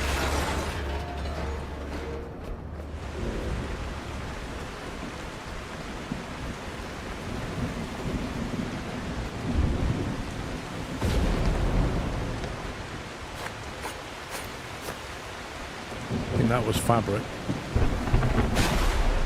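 Video game thunderstorm with steady heavy rain hissing throughout, low rumbles of thunder swelling now and then, and a brief spoken line partway through.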